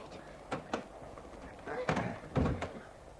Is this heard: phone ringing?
no